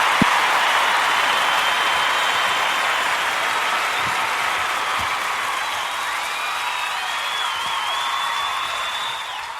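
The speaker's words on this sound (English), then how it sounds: "thank you for the wonderful round of applause" A studio audience on a live lunchtime radio show gives a long, steady round of applause, a dense wash of clapping that stays loud and even for nearly ten seconds with no talk over it.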